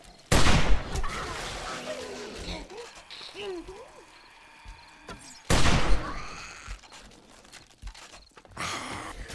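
Rifle shots in the 7 Days to Die video game, Alpha 16.4: two sharp loud cracks several seconds apart, with footsteps and game noise between and someone talking over them.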